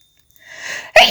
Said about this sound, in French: J'ai beau prendre le traitement, je fais quand même atchoum.